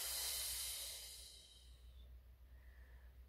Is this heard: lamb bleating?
no